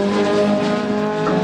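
A two-wheel-drive Ford Escort race car in a Classic Thunder race at Snetterton powers down the straight, a loud, steady engine roar holding a constant note throughout.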